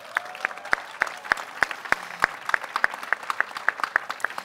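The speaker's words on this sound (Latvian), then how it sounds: "šis ir pelnījis aplausus" Applause for a member of parliament in a Latvian assembly hall: a small group claps in a sparse, steady rhythm of distinct, close hand claps.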